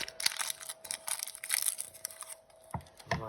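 Two Kinder Maxi chocolate bars being unwrapped and cut into pieces, with close crinkling wrapper rustles and crisp snapping cuts in an irregular run, a couple of sharper knocks near the end.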